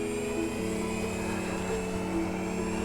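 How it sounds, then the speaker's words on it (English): An RC F9F Panther model jet climbing after takeoff, a steady whining turbine tone holding a constant pitch with a small step down, heard at moderate distance without voices. "Plane going up."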